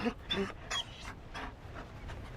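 A Mabari war dog in Dragon Age pants in quick breathy bursts with a soft whimper, close and quiet, fading into lighter panting.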